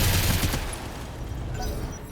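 Mech weapons firing in the BattleTech video game open with a loud burst of rapid impacts, then fade into a lower, rumbling tail, with no talk.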